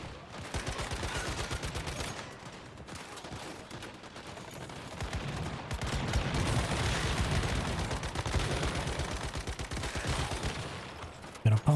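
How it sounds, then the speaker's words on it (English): Sustained rapid gunfire in the shooter game Once Human on a hard server, dense and loud automatic bursts running almost continuously with brief gaps. "Gonna pump you full of bullets there"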